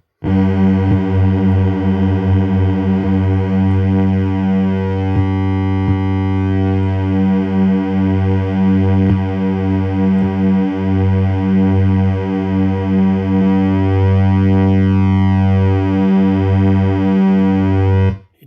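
A Black Pill STM32 F411 DIY synth plays a sustained, buzzy three-saw oscillator tone, steady, loud and harmonically rich, with slowly shifting detuned beating throughout.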